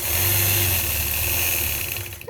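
A sewing machine runs steadily during machine quilting, giving a continuous close motor hum and whir without pause, with no talking.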